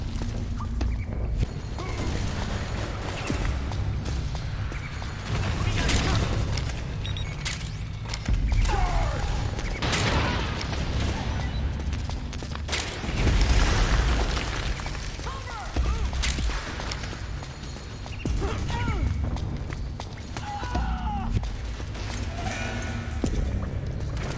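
Sustained suppressing gunfire in the Metal Gear Solid 4 video game, a dense, continuous barrage of shots and thuds with bursts swelling and dipping over about twenty seconds, loud and close throughout.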